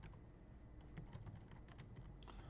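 Steady keystrokes on a computer keyboard while filling in a new room booking form, a quick irregular run of light taps close up with no voices.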